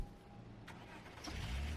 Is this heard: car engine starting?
yes